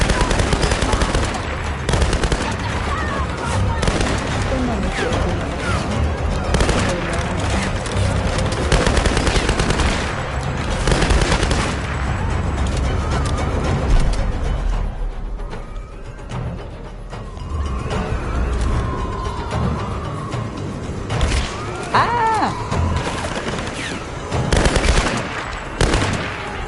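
Sustained automatic gunfire aimed at the player in Tomb Raider: Definitive Edition, dense loud bursts of machine-gun shots continuing almost without pause over the game's background noise.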